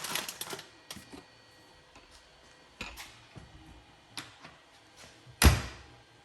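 An Indian motorcycle tour pack lid being closed after a strut kit install: a few light clicks and taps, then one sharp, loud latching thunk near the end, close by with no talking.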